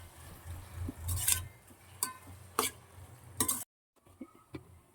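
Tomatoes with chili powder and turmeric stirred in a pan for mutton paya: a low sizzle under several sharp scraping stirs and utensil clinks, close and moderately loud, ending in a brief silence and softer taps.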